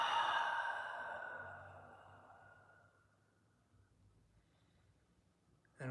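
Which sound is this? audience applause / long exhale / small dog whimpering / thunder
long exhale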